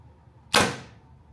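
A single arrow released from a Hoyt RX9 Ultra carbon compound bow, a sharp close snap with a quick decaying whoosh, heard alone in a quiet indoor room.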